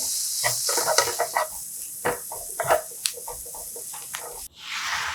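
Cabbage stir-fried in a pan with curry powder and pepper, a close, steady sizzle broken by repeated scraping and stirring strokes, ending with a brief burst of louder hiss.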